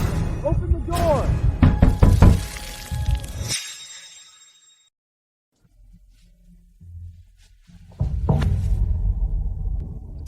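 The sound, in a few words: knocking on a door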